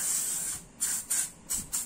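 Short bursts of cleaner sprayed onto a motorcycle CVT being serviced after flood water, three or four quick hissing sprays close up in a quiet workshop.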